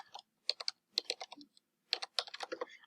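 Computer keyboard keys typed in quick bursts of clicks, with short pauses between flurries, close and clear with no talking.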